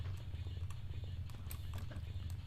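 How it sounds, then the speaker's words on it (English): Footsteps echo through the Barkhang Monastery level of Tomb Raider 2, a steady run of soft, evenly spaced thuds over a low, constant rumble of game ambience. "I hear footsteps, and I'm so hoping it's just the monks."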